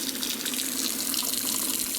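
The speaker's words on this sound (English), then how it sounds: "once you turn on the water" Water runs steadily from a tap into a sink with no stopper in, a continuous loud, hissing splash that stays even throughout, with no talking.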